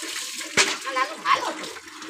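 Water splashes and pours in short gushes while someone is bathed, with a sharp splash followed by softer sloshing, and a voice speaks over it.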